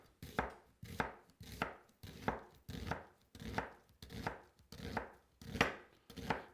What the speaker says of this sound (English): So that's how I do thin sliced onions in a hurry